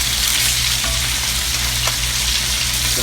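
Blackening fish fries loudly in a pan of butter and oil, a dense, constant close sizzle with a low steady hum underneath and a few faint clicks, no voices.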